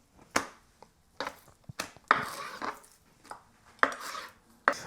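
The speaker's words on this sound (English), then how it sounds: "let's chop up some onions here" A razor-sharp Japanese kitchen knife chops onions on a board in a series of crisp, irregular knocks, each blade strike sharp and close, with brief gaps between cuts.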